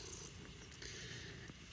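A cat purrs steadily, faint and close, as its belly is rubbed; a soft continuous rumble with no voices.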